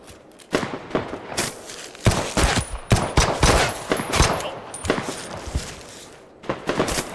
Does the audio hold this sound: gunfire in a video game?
yes